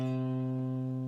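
One sustained root note of a C major triad rings steadily and evenly, soft and close, with no voices.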